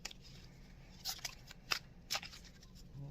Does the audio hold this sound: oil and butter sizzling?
no